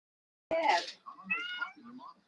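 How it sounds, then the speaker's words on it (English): A female cat in heat, near the end of her cycle, meows loudly and close by in one long drawn-out call and then a quieter wavering one, with a little background voice in the room. "My cat is meowing."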